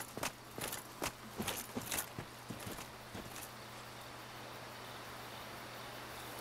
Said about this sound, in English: I thought I heard footsteps.